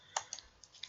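Computer keyboard typing and clicking, a few faint, quiet keystrokes and clicks spaced irregularly in a calm room.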